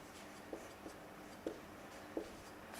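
Marker or chalk strokes on a classroom board during an English grammar lesson, four or five short scratchy squeaks spaced apart over steady room hiss, close and quiet.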